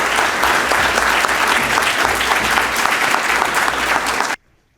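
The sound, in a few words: audience applause welcoming the General Secretary to the podium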